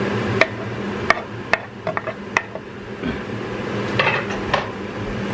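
Beef mince being moved around a pan with a utensil for spaghetti sauce, giving soft scraping and a few sharp clinks of metal on the pan over a low steady background, with no talking.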